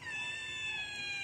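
A single cat in an animal shelter gives one sustained, fairly quiet meow, drawn out and alone.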